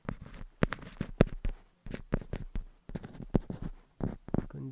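A pen scratches across paper in quick irregular strokes while maths steps are worked out, close and clear with short pauses between bursts.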